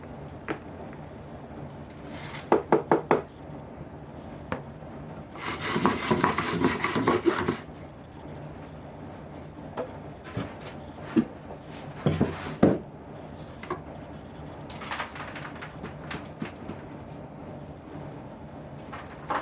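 Worm castings are scooped and sifted from a worm bin, giving scattered soft scrapes, a few sharp taps, and a burst of gritty rustling shaking in the middle, with quieter scuffs and knocks continuing intermittently.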